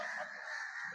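A flock of swans calls with a brief burst of overlapping honking, fairly distant and steady, at an ashram set in natural surroundings.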